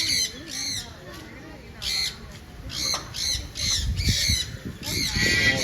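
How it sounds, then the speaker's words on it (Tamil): Parrot at Thiruvananthapuram Zoo giving repeated loud, harsh squawks in short bursts, with crowd chatter and general zoo noise underneath. "இங்க பாருங்க, இந்த கிளி"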